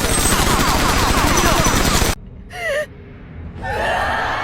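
Rapid gunfire as an emperor and his guards shoot a young woman, a loud dense burst of shots lasting about two seconds, then abrupt quiet broken by pained gasps and groans.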